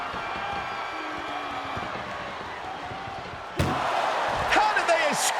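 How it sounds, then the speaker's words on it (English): An ambulance door slams shut during a wrestling match in the WWE 2K25 video game: one sudden loud bang partway through, over a steady arena crowd roar and voices. "Trying to at least slam one door shut."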